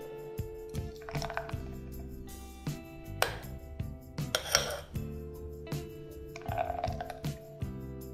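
Light clinks and scrapes of a spoon against a glass as fruit smoothie layers are poured in, spaced irregularly over a steady low hum, with a few brighter taps standing out.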